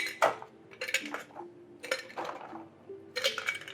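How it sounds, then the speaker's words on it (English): Ice cubes clink and clatter as they drop into a glass coffee decanter, several bright clustered bursts spaced across a few seconds, close and fairly loud with no talk over them. "let's go ahead and ice your decanter"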